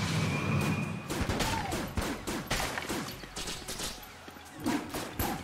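Void Core Assault Rifle firing in the video game Enter the Gungeon, rapid bursts of sharp shots in quick succession mixed with game effects, at moderate loudness.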